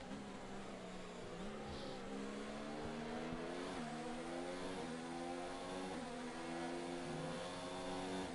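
Several race cars on a circuit, their engines droning steadily as they string through the final two turns, with rising and falling pitch as they accelerate and shift, a continuous layered roar throughout.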